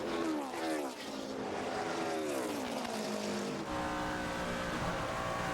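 NASCAR Nationwide Series stock cars racing at Michigan, loud engines roaring past with rising and falling pitch as cars sweep by, a continuous droning pack close up.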